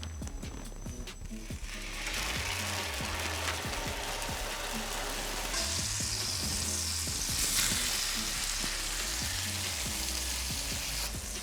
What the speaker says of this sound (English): we're gonna cook it for 30 seconds aside, that's it, just searing the top and the bottom